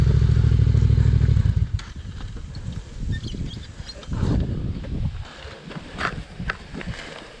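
Yamaha T7 adventure motorcycle riding in Australia, a steady close engine drone for the first couple of seconds that then gives way to a rougher, uneven rumble with clattering and scraping bursts.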